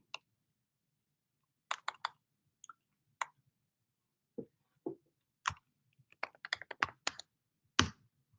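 A command for a BlazeMeter Taurus (BZT) test being typed on a computer keyboard: scattered crisp keystrokes, near and clear, building into a quick burst of clicks toward the end, with quiet pauses between.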